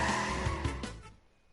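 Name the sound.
kart drifting in video game Crash Team Racing Nitro-Fueled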